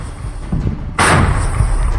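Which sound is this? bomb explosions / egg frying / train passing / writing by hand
bomb explosions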